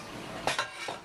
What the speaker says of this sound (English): Is that where the pots and pans go?